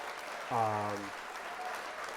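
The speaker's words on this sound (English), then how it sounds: "I'm going to hit the applause again because that's a lot" A canned applause sound effect fired off during a LEGO building livestream, a short burst of clapping lasting about half a second to a second, with a harmonic tone over it and steady background noise.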